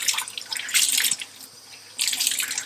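Tap water runs and splashes while a white garment is rinsed under it in a sink, the flow surging in two louder bursts with a quieter stretch between, close and steady with no talking.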